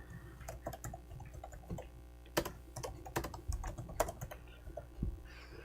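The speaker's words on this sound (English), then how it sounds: "but I'll type it out actually" Rapid clatter of computer keyboard keys being typed, with irregular bursts of clicks and a few louder keystrokes, close up and without any voices.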